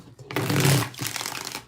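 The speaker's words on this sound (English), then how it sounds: "Three more shuffles." Tarot cards being shuffled during a reading, a loud dense riffle of papery card flutter that swells, breaks briefly, then resumes for a second burst, with no voices over it.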